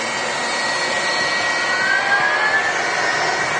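A Turkish Airlines jet in Star Alliance special livery takes off from the far runway at Manchester Airport, a loud, steady engine roar with a thin whine that rises and shifts in pitch, heard alone.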